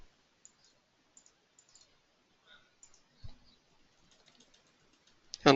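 Sparse, crisp computer mouse clicks scattered singly and in quick pairs across a quiet room, with a slightly louder click cluster near the end.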